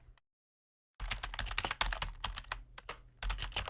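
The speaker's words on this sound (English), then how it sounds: "I'm in a very bad position to be typing right now" Fast, close clattering keystrokes on a computer keyboard start after a second of silence and run on in dense irregular bursts with short pauses, no speech.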